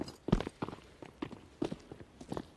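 Footsteps in CS:GO on the Overpass map during a competitive EnVyUs vs. Winstrike match, a string of soft, fairly even steps spread across the moment, moderately close and with no voices over them.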